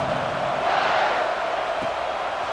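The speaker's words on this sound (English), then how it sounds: "this crowd is feeling themselves after that last drive" Stadium crowd in College Football 26 on PS5 roars as the kickoff unit takes the field after a touchdown drive, a steady, loud wash of cheering with no individual voices standing out.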